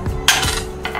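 A knife cuts betel leaf stalks on a chopping board, giving a sharp knock followed by light scraping and a second quieter tap within a second, close and alone without talk.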